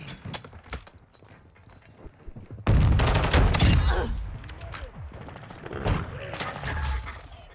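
Call of Duty Modern Warfare II multiplayer gunfire, a loud sustained burst of rapid automatic shots close by, followed by scattered quieter shots and clatter, with faint distant fire at the start.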